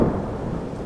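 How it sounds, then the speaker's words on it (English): A deep, steady rumble of storm thunder rolls on without a break, loud and close. "The thunder that followed, sometimes roaring overhead and at other times rumbling gently in the distance, added such drama to the night."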